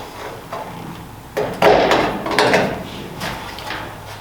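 Metallic clicks, snaps and handling clatter close by as Cleco fasteners are pushed into an aircraft lower deck filler panel during replacement work, with irregular sharp knocks.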